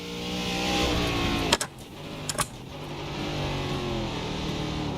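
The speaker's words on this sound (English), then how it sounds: "We're going up to 4th gear." A race car engine revs hard as the driver shifts up into 4th gear in iRacing, steady engine drone climbing with a couple of sharp breaks at the shift points, close and loud throughout.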